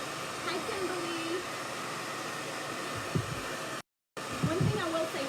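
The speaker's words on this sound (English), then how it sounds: "So when I hit this, I'm hitting it with a hot blow dryer" A hot blow dryer runs steadily over stencil paint on a painted birdhouse, a continuous close airy roar with a brief cutout near the end, and a faint voice talks softly underneath.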